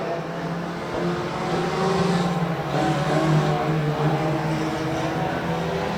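Race cars roaring along the front straightaway at Rose Bowl Speedway, a steady loud engine drone swelling slightly as the pack passes, with no talk.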